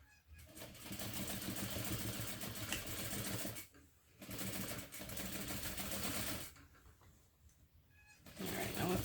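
Sewing machine stitching a lined bag through lining fabric and thick foam-backed layers, running in steady close bursts of rapid mechanical clatter broken by short pauses.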